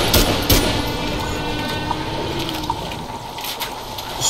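A steady, loud rush of falling water from a waterfall in the dinosaur video game Primal Carnage, continuous and close, with a few faint clicks on top.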